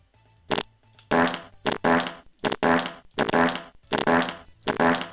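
A string of loud, close fart noises in a game, about seven bursts of varying length in quick irregular succession, some short pops and some drawn-out and buzzy.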